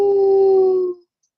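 A single steady wolf howl holds one sustained tone for about a second before fading out abruptly, clear and close, serving as a sound effect in a radio sponsor spot.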